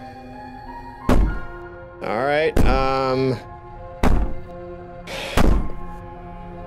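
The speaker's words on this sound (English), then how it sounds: "Bang on the door you want." Heavy bangs on a door in the video game Slay the Princess: four loud, booming thuds spaced a second or so apart, with brief stretches of voiced talk between them over a low droning score.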